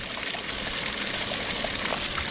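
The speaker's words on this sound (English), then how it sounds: "So you flip it on backwash, flip the pool back on. Let's shoot out all the dirty water in there." Dirty water gushing out of a backwashing sand filter on a home swimming pool, a steady broadband rushing and splashing stream lasting throughout, fairly close with no talk.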